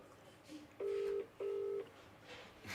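A phone call goes out on the line, with two steady matched beeps in a double-pulse pattern, clear over a faint background murmur.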